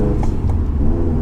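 Subaru WRX engine running while warming up before highway pulls, a loud, steady low rumble heard close and alone throughout.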